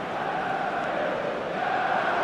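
A stadium crowd in the football video game eFootball PES 2024 gives off a dense, steady roar of massed voices, even and continuous with no single standout shout.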